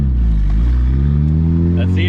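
A coupe with a freshly reinstalled transmission drives on a road, its engine droning loud and steady with a deep low rumble as it pulls away.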